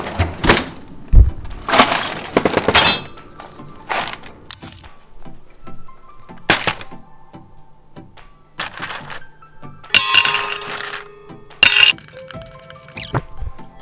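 Ice cubes clatter and crack into a Grizzly Grip cup and a Walmart cup, sharp clinking bursts in uneven clusters with quiet gaps between handfuls, close and fairly loud, no talking.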